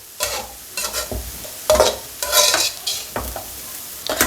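Churi being stirred and roasted in ghee in a pan over low heat, heard as a series of scraping stirs with soft sizzling between, close and fairly loud, with no talking.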